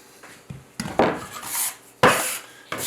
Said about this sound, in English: I'm just going to start to just lightly sort of massage the butter and the flour together